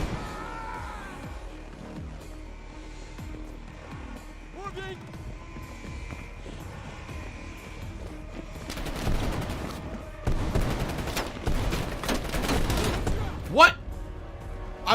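Video game gunfire rings out in bursts of rapid shots and booms, building to dense volleys near the end, with someone talking over the early part.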